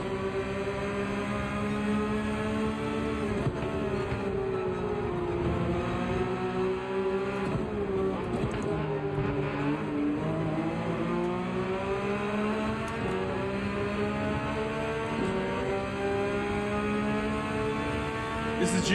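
Several GR3 race cars in Gran Turismo 7 drone loudly and continuously at the Nürburgring GP, their engines rising and falling together through gear changes with steady overlapping tones.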